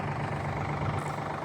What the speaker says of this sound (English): Here's Doug on a tractor, classic.